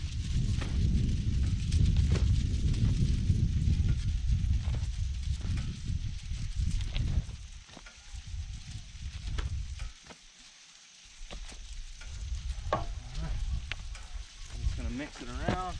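Shovel and rake scraping and mixing topsoil into garden ground for planting tea, a steady rough crunching and scraping that thins out partway, with someone speaking over it.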